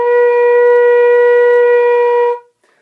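A flute playing B flat blown too hard, giving one loud, steady, bright, overblown tone that holds for over two seconds and then stops sharply into silence.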